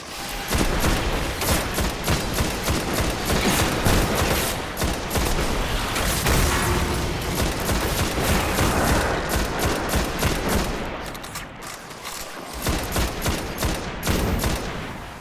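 Dense, sustained gunfire in Destiny: Rise of Iron, with rapid automatic bursts, single shots and booming impacts layered nonstop, loud and close, easing only briefly before surging again.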